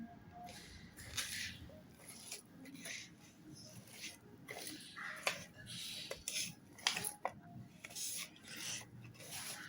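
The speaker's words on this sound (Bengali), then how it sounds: "প্রথমে আমি পেঁয়াজ, কাঁচামরিচ, লবণগুলো সবগুলো একসাথে মিক্স করে নিচ্ছি" Onion, green chili and salt mixed together in a bowl for Bangladeshi rui fish bharta: irregular close scraping, rubbing and light utensil clinks against the bowl, in uneven bursts with brief pauses.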